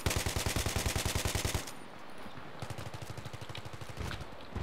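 Rapid automatic bursts from an AK-74M rifle in a video game, two sustained strings of loud, evenly spaced shots split by a short pause, with a smaller burst near the end.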